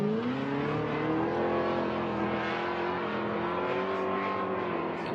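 RTS Monster BMW M3 drift car engine revving hard at the Formula Drift Irwindale qualifying, a loud sustained throttle howl with rising and wavering pitch, close and continuous with crowd-free track noise.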